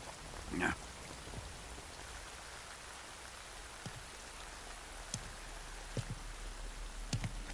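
Steady rain falls in a Metal Gear Solid Delta: Snake Eater game scene, a soft, even wash of drops with a few faint thuds, quiet and diffuse throughout.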